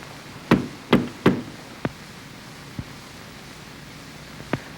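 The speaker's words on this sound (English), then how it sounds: "Knock on wood." Knuckles knock on wood three times in quick succession, close and sharp, followed by a few fainter, sparse taps in an otherwise quiet room.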